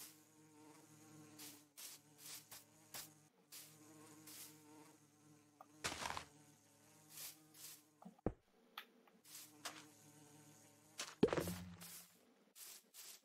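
Steady insect drone of a bee in Minecraft, a low buzzing hum running through the whole stretch under occasional footstep-like taps and a few sharp knocks.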